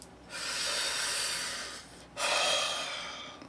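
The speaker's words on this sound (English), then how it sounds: "I want you to take a deep breath." A slow, airy deep breath heard up close: a long hissing inhale followed by a second sustained breath, soft and intimate in a calm relaxation setting, with no talking.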